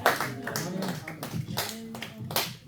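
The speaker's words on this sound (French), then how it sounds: "On acclame encore pour la parole de Dieu." A church congregation applauds during a worship service, a loose, patchy clapping that rises and falls over a few seconds, with voices talking and calling out beneath it.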